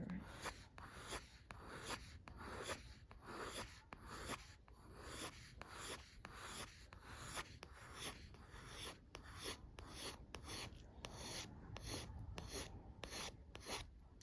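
Soft 6B graphite pencil rasping across paper in quick repeated short strokes while sketching hair, a dense scratchy rhythm of dozens of close, steady rubs with no talking.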